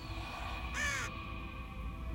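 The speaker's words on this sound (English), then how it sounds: "Quoth the raven" A single raven caw, a short harsh call standing out clearly over a steady low background hum, with no other voices around it.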